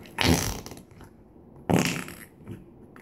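Two loud, wet fart-like squelches from slime being squeezed during a fart test, each a short burst about a second apart, followed by a softer squish.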